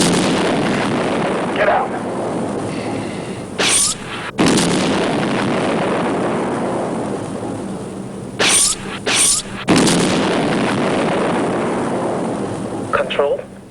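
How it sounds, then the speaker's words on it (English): Energy blasts and explosions as a UFO opens fire, several sharp bursts clustered at intervals over a steady background rumble, with a voice shouting briefly. "the UFO has opened fire on us"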